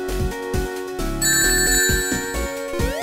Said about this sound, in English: Those bells give out rings.